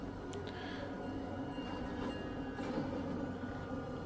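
A train passing in a TV demo clip shown on an Amazon Fire TV 55-inch Omni QLED set: a steady, continuous rumble and rail roar with faint clicks, heard alone without talk.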